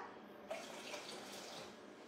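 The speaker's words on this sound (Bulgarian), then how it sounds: "Сега ще му сложим още малко вода" Water runs from a tap into a container of rice before microwave cooking, a quiet continuous pour with a soft splash as the flow begins.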